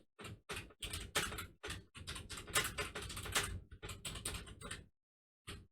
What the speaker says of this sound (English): I swear I'm not normally this bad at typing